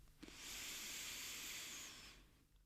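A long, deep breath drawn in through the nose, a steady airy hiss that swells and holds for about two seconds before fading, close and alone in a quiet room during a guided relaxation exercise.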